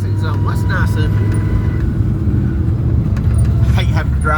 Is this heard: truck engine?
yes